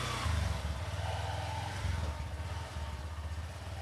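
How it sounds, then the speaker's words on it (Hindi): A motorcycle engine starts up and keeps running nearby, a pulsing low throb that swells and settles at a steady idle-like rumble, with no talk over it. "तो ये स्टार्ट हो गई है बाइक"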